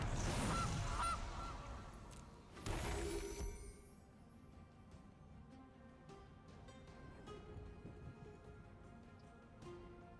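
A goose honks in the MTG Arena digital card game as the Gilded Goose card comes into play: a loud burst of honking at the start, a second shorter honk soon after, then quiet game ambience.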